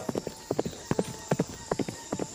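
Horse hooves clip-clop in a steady paired rhythm, close and clear, as a horse carries a rider toward the jungle, with faint background hiss and no talk.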